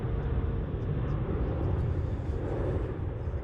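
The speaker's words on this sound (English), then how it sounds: "Taxiing up towards holding point Kilo." Airliner taxiing toward a holding point at Melbourne International Airport, a steady low engine rumble and broadband roar heard at a distance, continuous and even throughout.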